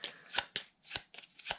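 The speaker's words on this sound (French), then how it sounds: "Et mélangez-la au deck de barbares." A deck of cards for the board game Legacy of Yu is shuffled in quick riffling bursts, about five or six short crisp shuffles close by and alone, with no talk.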